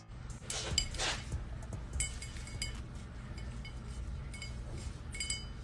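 A drinking glass is handled and set down, producing scattered light clinks and taps, a few in quick clusters, close and fairly quiet against a faint room background.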